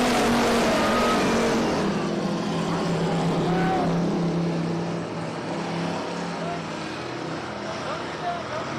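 Factory stock race cars lapping a speedway oval, a loud sustained engine drone through the turns that slowly eases in level, with a commentator talking over the noise.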